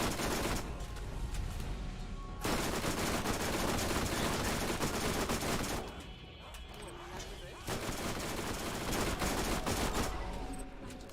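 Fire gunfire in the video game Borderlands crackles in dense, sustained rapid bursts with brief gaps between volleys, loud and continuous across the clip, with a voice talking over parts of it.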